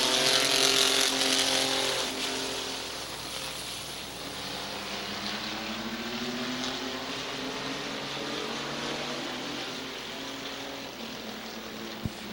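Race cars lap Midvale Speedway on a short oval, engines roaring loudly as the pack passes, then fading into a steady droning whine as they circle away.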